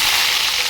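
Sliced onions hit hot oil already tempered with dal, mustard seeds and cumin, giving a loud, dense, continuous sizzle with no talking.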